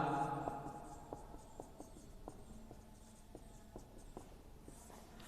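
Chalk or marker taps and scratches on a board during a physics lecture, about a dozen light strokes spaced roughly half a second apart, faint against room noise.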